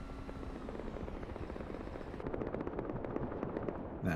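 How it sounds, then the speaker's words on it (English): Helicopter in the game Rust flying in, a dense continuous rotor roar that swells louder partway through, with sharp rapid pulses layered over a busy mechanical din. "As a helicopter comes in from Rich"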